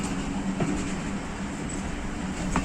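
Kohat Express passenger train arriving at Babri Banda station in the hills, a steady broad rumble of rolling wagons with faint rhythmic wheel clicks and a light squeal, continuous and moderately loud, no talking.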